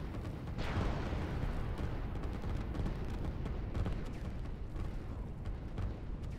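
A rocket strike lands in the strategy game Line War, a loud sustained rumbling blast with a sharp onset that rolls on as a dense, continuous roar throughout.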